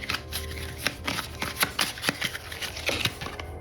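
Cards shuffled by hand during a tabletop board game session, a run of crisp riffling bursts and snaps repeating over several seconds, close and fairly loud, with no talking.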